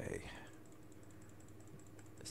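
Rapid, soft computer keyboard typing mixed with mouse clicks, faint and close, under a low hum, with a voice briefly at the start.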